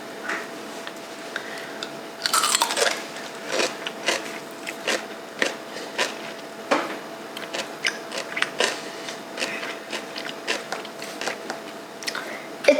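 Crunchy bites and wet chewing of pickles, a series of close, sharp crackling crunches repeating irregularly, with a brief rustle early on and no talking.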